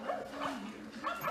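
A robotic companion pet dog gives a few short, high yapping barks up close, in quick bursts over about a second.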